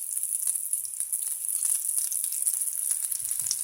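Ocean trout sears in a hot pan after being flipped to a golden brown side, giving a steady, close hiss of sizzling oil throughout with no talking.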